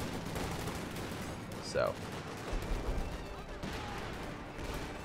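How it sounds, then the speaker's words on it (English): A light artillery barrage rumbles across a World War II battlefield in Company of Heroes 2, with muffled distant blasts and gunfire under dense battle noise and a brief spoken word. "Looks like it's a light artillery barrage."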